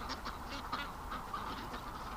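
Ducks out in a backyard on a warm day, with soft overlapping honking and quacking calls repeating steadily over a constant background hum, moderately distant and fairly faint.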